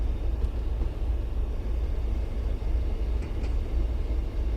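In Train Sim World 5, a freight train rumbles past on the Boston to Worcester commuter line, a steady low rolling drone with faint clanks, heard from inside a moving cab.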